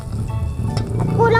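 Dried fish (tuyo) frying in oil in a pan, a loud close sizzle with crackles, running under a low voice with a few clinks near the end.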